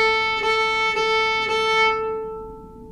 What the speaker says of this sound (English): The first thing we're going to do is we're going to do some simple saw strokes up and down on the A string.